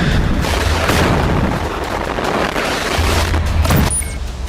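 Heavy explosive booms and rumbling blasts from Israeli tanks being destroyed in combat in Gaza, a dense, loud wash of low thunder with a sharp crack near the end.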